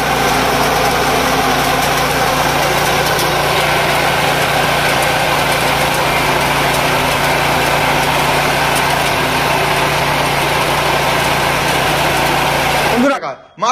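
A small reaper machine cuts a rice paddy, its engine droning loudly and steadily at close range with a dense mechanical roar. The roar cuts off abruptly at the very end.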